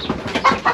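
Chickens in a small chicken house on a Kenyan villa property give close, lively clucks, several quick calls overlapping in a short burst.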